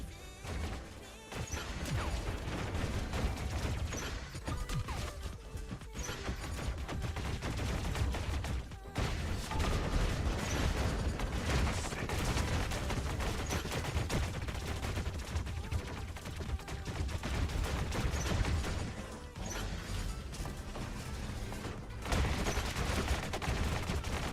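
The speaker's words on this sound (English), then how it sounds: "You're shooting at a reflector shield." Dense, continuous gunfire from War Robots battle robots striking a reflector shield, with heavy impacts and crashes layered into a loud, sustained barrage and only brief dips.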